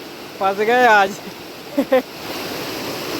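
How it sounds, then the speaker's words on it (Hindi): A fast, shallow forest stream rushes steadily throughout, a broad constant wash of water, while someone speaks briefly near the start and says a few words again midway. "भले ही कम है पानी लेकिन इतनी तेज़ बहाव है"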